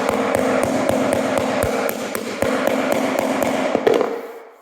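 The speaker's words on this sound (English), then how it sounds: "I just take my rubber mallet here and" A rubber mallet tapping vinyl plank flooring into place during a barndominium build, a rapid even series of sharp knocks at close range that stops abruptly near the end, with no talk.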